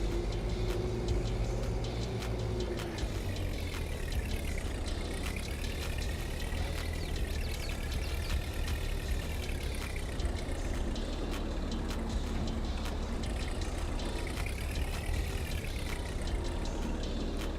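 A tractor-based forklift engine idles steadily in Farming Simulator 22, a continuous low mechanical drone with a faint rising and falling whine, close and unbroken throughout.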